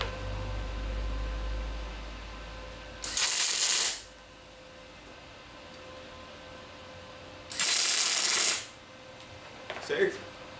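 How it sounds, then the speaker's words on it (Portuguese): Two bursts of crackling tack welding as a welding machine on a moderate setting joins two metal pieces, each lasting about a second, with a shorter sharp crackle near the end and a low hum in between. "Primeira coisa que eu vou fazer aqui vai ser a questão de pontear uma peça na outra"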